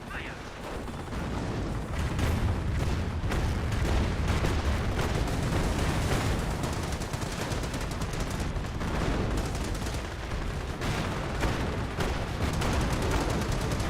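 Calliope rocket barrage and gunfire in Company of Heroes, a dense rumbling roar of rapid blasts and explosions continuing throughout, with a commentator's voice partly heard over it.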